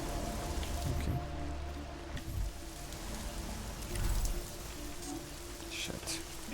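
Steady rain falling in the video game Deus Ex: Mankind Divided, a constant hiss of drops with faint game sounds and a quiet voice underneath.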